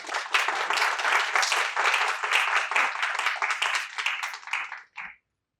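An audience applauds to welcome a panel at a discussion event, steady full-room clapping lasting about five seconds before cutting off abruptly.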